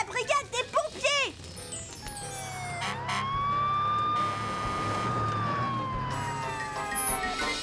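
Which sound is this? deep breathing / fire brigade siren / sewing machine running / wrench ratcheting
fire brigade siren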